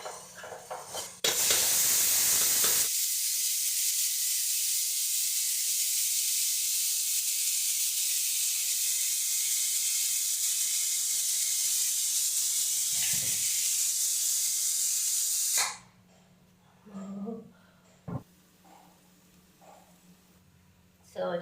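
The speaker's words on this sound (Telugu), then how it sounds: "సో చూసారు కదా అట్లా డీప్ ఫ్రై చేసుకోవాలి." Chicken masala and spices deep frying for dum biryani give a loud, steady hiss of sizzling oil that holds for about thirteen seconds, then cuts off, leaving quieter sounds and a faint voice.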